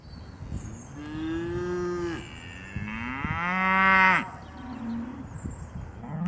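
Cows moo in the Swiss mountains: several long, drawn-out lowing calls, some overlapping, ring out fairly close and loud against quiet outdoor background.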